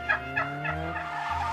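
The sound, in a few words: turkey gobbling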